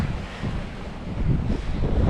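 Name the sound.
wind on the coast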